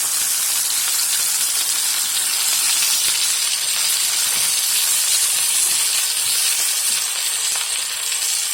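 Duck breast dropped into a hot pan sizzles loudly, a dense continuous hiss and crackle of frying fat that stays steady and close throughout, with no talk over it.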